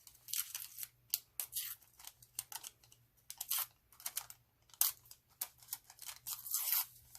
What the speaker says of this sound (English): I'm going to tear this piece here to get the rough edge, because I don't necessarily want a straight edge